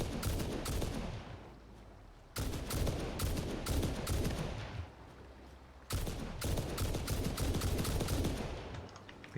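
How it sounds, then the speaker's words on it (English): A gun fires rapid bursts at bugs in the Satisfactory video game, giving loud close-up volleys of dense repeated shots with a few brief pauses between them. "And let's also shoot some bugs."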